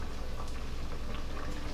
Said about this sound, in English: as I've been boiling the potatoes